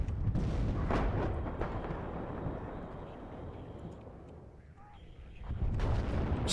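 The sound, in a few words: gunfire and artillery in video game Warno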